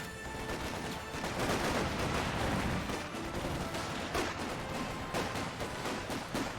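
Battlefield gunfire in Company of Heroes 2, with sniper shots among dense, steady combat noise: repeated sharp cracks and rattling bursts layered over a continuous loud din, no voices.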